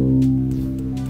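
A cello's open C string rings out as one low, sustained bowed note for tuning, steady and close with a gentle decay and no voices over it.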